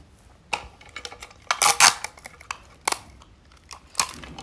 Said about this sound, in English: I'm going to just get some tape and stick it down